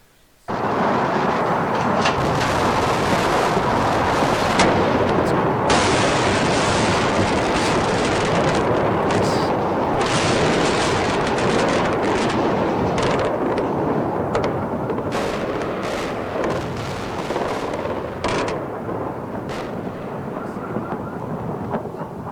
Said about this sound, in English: We go and bomb Baghdad.